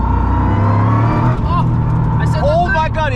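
A Toyota GR Yaris Japan Rally Championship car accelerates hard in second gear as turbo boost builds, a loud steady engine drone heard from inside the cabin, with excited voices talking over it.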